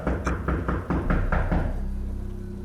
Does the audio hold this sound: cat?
no